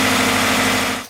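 A Subaru BRZ/86/FRS engine idles steadily with a newly installed oil cooler, producing a loud, even hum with no speech over it, then cutting off abruptly just before the end.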